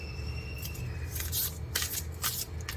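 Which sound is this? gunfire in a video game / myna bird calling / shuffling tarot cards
shuffling tarot cards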